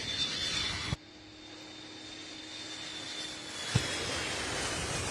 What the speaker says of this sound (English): The aircraft taken off. This is one of those refuelers.